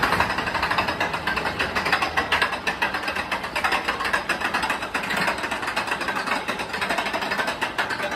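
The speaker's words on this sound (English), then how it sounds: "it's all made up for by the wonderful sound of that chain lift" A chain lift on a steel portable roller coaster clatters steadily and loudly, a dense continuous mechanical rattling that holds without pause throughout.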